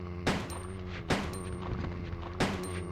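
Three sharp gunshots from a handgun in Resident Evil 2 (1998), evenly spaced about a second apart, each a loud broadband crack with a short decay over a steady low background hum.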